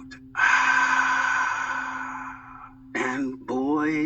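Long, deep breath drawn in with a rushing, airy sound lasting over two seconds, then two shorter voiced exhalations close to the mic.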